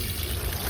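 Water pouring into a washing machine as it fills, a continuous rushing, gushing flow that is fairly loud and close and runs for a brief moment.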